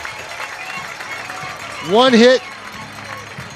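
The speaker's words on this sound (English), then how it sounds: "Check out this standing ovation for Eric Perrault, including his own teammates." Baseball crowd at a championship game rises into a standing ovation for a pitcher, a short burst of loud cheering and clapping under a commentator's ongoing talk.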